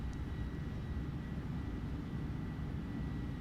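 Simulated Airbus A310-300 reverse thrust during landing rollout in Microsoft Flight Simulator 2020: a steady, dense low engine roar with broadband rumble, holding constant and alone throughout.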